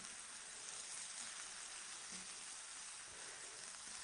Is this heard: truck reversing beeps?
no